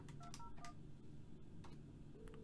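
Dialing tones from an office desk phone: a quick run of short keypad beeps at the start, a couple more scattered later, then a steady ringback tone begins near the end, all soft and close.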